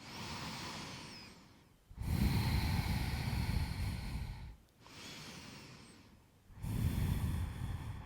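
Slow, deep breaths held in a yoga pyramid pose, three long breathy inhales and exhales with short pauses between, close and fairly quiet with no talking.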